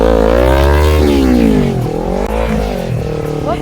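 A learner rider's motorcycle engine revs steadily and loudly at close range, its pitch rising, dipping and climbing again as the throttle is opened.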